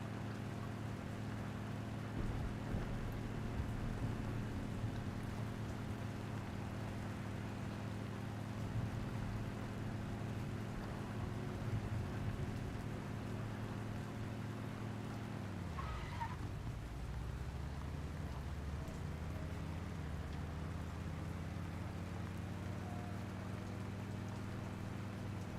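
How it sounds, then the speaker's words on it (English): Steady rain in the survival game Once Human, a continuous hiss and patter held at an even level throughout, with a low mechanical hum beneath and a brief dip in the middle. "Raining"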